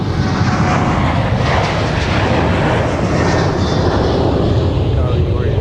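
Airliner engines roaring loudly at MSP airport, a close, dense, continuous jet rumble with broadband wash that holds steady throughout.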